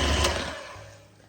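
An electric mixer whirs steadily through a thick peanut butter and cream cheese mixture, a continuous motor hum that slowly fades over about a second.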